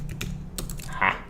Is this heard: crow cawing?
no